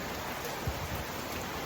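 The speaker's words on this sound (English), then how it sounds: "you can see the rains are now getting heavier and heavier" Heavy rain falls on an outdoor construction site, a dense, even hiss of downpour with scattered drops, steady and enveloping throughout without any voices.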